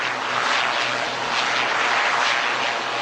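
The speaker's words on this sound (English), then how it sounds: "as the aircraft concludes its aerial display" Aircraft flying overhead at an Aero India aerial display: a sustained, loud broadband engine roar that holds steady throughout, with no talk.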